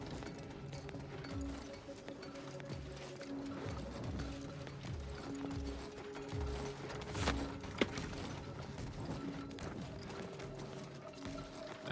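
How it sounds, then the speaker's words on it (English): Heavy creature footsteps stomp outside in The Outer Worlds 2, a faint, irregular thudding walk under low droning ambient game music. "I hear one of them stomp walking outside."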